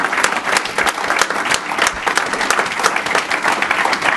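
An audience at a dedication ceremony applauds, dense steady clapping from a roomful of people, loud and close throughout.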